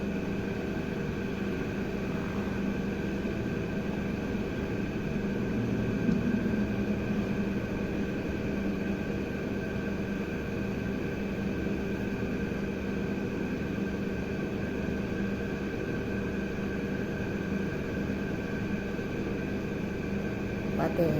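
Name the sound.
oil mill extracting oil from coconut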